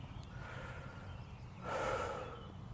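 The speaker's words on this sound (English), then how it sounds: "Anything as simple as taking a deep breath" A single deep breath, drawn in quietly and close by about midway through, swelling briefly as a soft airy rush and then fading against a faint background.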